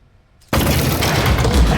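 Turret gunfire in the video game Aperture Desk Job: after near silence, a sudden loud burst erupts and continues as a dense, rapid stream of shots lasting over a second, close and forceful.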